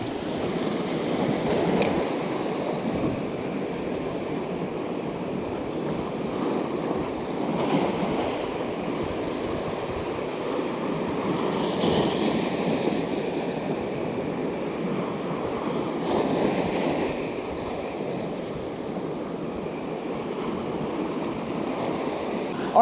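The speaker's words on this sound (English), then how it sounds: "Pretty strong wave." Strong ocean waves crash against jetty rocks in steady, broad surf washes with periodic swells, mixed with wind noise and no talking.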